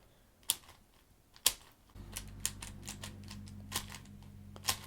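A 5x5 speed cube is turned quickly to test corner cutting, making sharp plastic clicks and snaps at irregular intervals over a faint low hum, close to the microphone.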